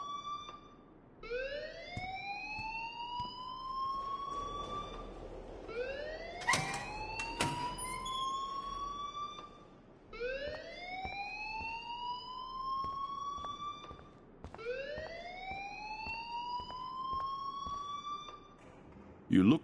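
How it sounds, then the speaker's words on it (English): An alarm goes off in the video game Life is Strange as a rising siren-like whoop, repeating about every four to five seconds over steady background noise, with brief sharp clatters in between. "please turn off that alarm since that's your job"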